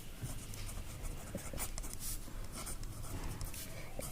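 A pen scratches steadily across paper as a teacher writes out a school chemistry problem, a continuous close, dry scribbling with small strokes and pauses and no speech.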